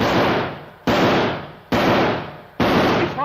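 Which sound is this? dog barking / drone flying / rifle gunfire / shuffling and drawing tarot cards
rifle gunfire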